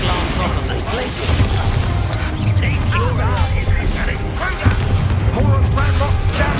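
Ranrock's boilers being destroyed in Hogwarts Legacy, a dense clatter of cracks, booms and metallic shattering with chirping spell effects layered throughout, loud and busy.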